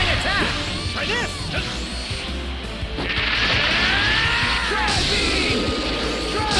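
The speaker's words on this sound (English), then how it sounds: "Goku unleashes an unbelievable barrage!" A rapid barrage of punches and smashing impacts rings out in Dragon Ball Z: Kakarot during a World Tournament fight, layered with yells, whooshes and dense crashes throughout.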